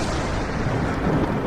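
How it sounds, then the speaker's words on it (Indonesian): A deep, continuous thunder rumble rolls through a storm heard from inside a house, loud and heavy in the low end, sustained without a break for the whole moment, with no voices. "gak boleh takut, itu cuma petir"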